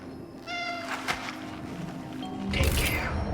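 A cat in the video game Cronos: The New Dawn gives a short, clear meow, followed by a rougher cry and a burst of louder rumbling game noise at the end.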